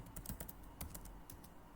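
Password being typed on a computer keyboard while setting up a Windows server login, with a quick run of light, irregular key clicks close by and no voices.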